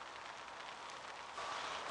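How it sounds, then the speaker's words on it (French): Steady rain falling outdoors on a cold night by the water during a carp fishing trip, a dense even hiss that swells slightly toward the end, soft and continuous. "Là, il fait super froid, il pleut"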